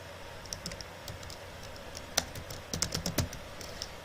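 Visual Basic 6.0 code being typed on a computer keyboard, with scattered single keystrokes at first and then a quicker cluster of taps, close and fairly quiet, with no voices.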